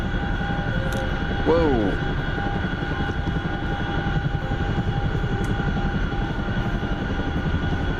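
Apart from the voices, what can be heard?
helicopter flying overhead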